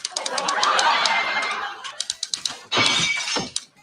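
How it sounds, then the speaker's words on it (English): A head smashing through a plate glass window: a loud crash with a burst of shattering glass, then a quick run of sharp tinkling impacts and a second heavy breaking crash with fragments falling. "He falls backwards over the couch and slams his head through the plate glass window."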